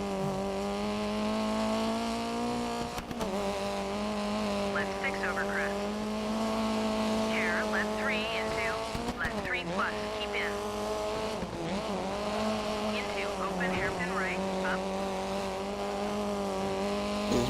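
Race car engines roar steadily in the rally video game DiRT 3, the engine pitch climbing and dropping through gear changes, with repeated short tire squeals and skids over a continuous loud drone.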